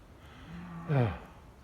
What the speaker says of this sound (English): Yeah, there's Mama Cow right there.